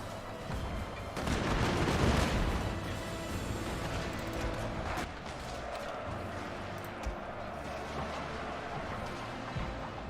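Musket volley fire from line infantry in the Total War: Shogun 2 Fall of the Samurai battle game, a loud rolling crackle of many shots that swells near the start and then trails into scattered distant pops and battlefield rumble.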